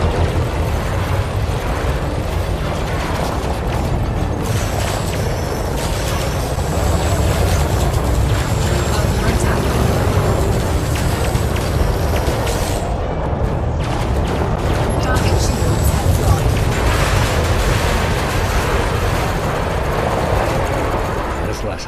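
Spacecraft weapons fire in a combat dogfight in the game Elite Dangerous, a dense, continuous roar of blasts and engine rumble lasting many seconds, loud and unbroken, with a voice talking over it.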